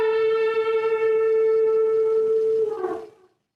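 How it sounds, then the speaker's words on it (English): An electric guitar note is bent at the 14th fret on the G string, a clear sustained tone rich in overtones that holds steady, wavers and then fades out. "Simple one, just a bend at the 14th fret."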